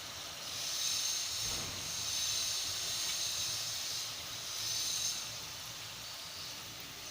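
Chakli, a spiral Indian snack, frying in hot oil gives a continuous bright hissing sizzle, close and steady, swelling and easing slightly but never stopping.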